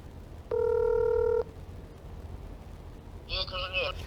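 A telephone rings with a steady electronic tone lasting about a second, then after a pause a shorter warbling ring burst sounds over faint background noise.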